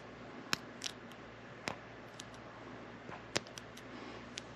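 Scissors snip material during the tying of an artistic-style salmon fly, giving a handful of sharp, crisp clicks spaced irregularly over a quiet background, close and fairly faint.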